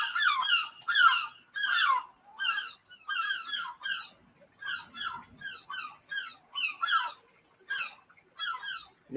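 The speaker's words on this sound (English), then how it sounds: "Seagulls there." Seagulls call in a run of sharp, repeated squawks, each short burst spaced by brief gaps, fairly close and clear with little else around them.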